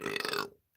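A single deliberately forced burp, loud and close, rasping for about half a second before cutting to near silence.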